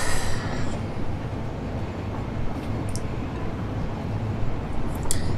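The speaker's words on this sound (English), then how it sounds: "Hop on this train to do so." A train rolling along its rails inside a factory-building video game, making a steady low rumble with a few faint high clicks and squeaks near the end and no talk.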